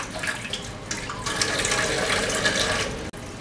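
Kitchen tap water runs at a low flow while kale leaves are washed under it, a steady close splashing rush with slight shifts as the leaves move through the stream.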